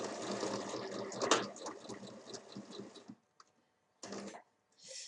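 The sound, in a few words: sewing machine stitching a bag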